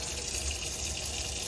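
Water runs steadily from a tap in a 2018 Cabrera caravan, making a continuous close hiss and rush with no breaks and no voices.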